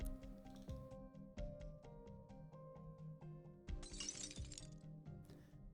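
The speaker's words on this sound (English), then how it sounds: "A cup shatters, with the Lord Exorcist squeezing" A cup shatters in an Arknights sound effect, with a sharp glassy crash and a bright burst of scattering fragments standing out over a quiet, ringing musical backdrop.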